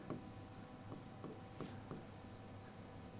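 Faint, quiet scratching strokes of writing on a board or paper, short scribbles in an irregular rhythm, with no voice.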